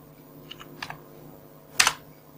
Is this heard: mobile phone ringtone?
no